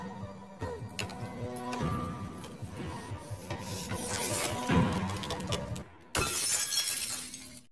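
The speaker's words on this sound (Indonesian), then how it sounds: "Ketika kaca jendela itu pecah" A glass window breaks during a tense film scene, with shattering glass and clattering debris sounding through dense, busy movie sound and music, then a sudden sharp crash near the end.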